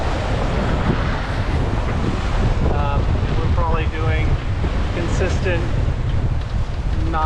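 Steady, loud wind noise and rushing ocean waves aboard a sailboat running downwind in 18 knots of breeze while crossing the Pacific, continuous throughout with a few faint squeaks and creaks from the boat.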